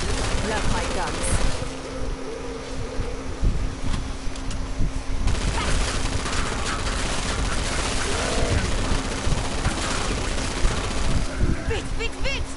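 Guns in Killing Floor 2 fire in rapid dense bursts of gunfire and booms, loud and nearly continuous, with a voice talking over the shooting.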